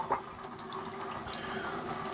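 A small amount of water runs steadily onto handmade tallow and shea shave soap being prepared for lathering, a soft close trickle with faint splashes and no pauses.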